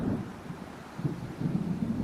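Low, rolling thunder rumbles from an approaching storm in the Alan Wake video game, coming in swells with no voices over it.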